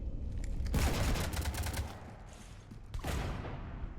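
Gunfire in the video game Mass Effect 3, aboard the Normandy: rapid bursts of shots with mechanical clatter, a dense volley early on and another burst near the end, moderately loud with no talk.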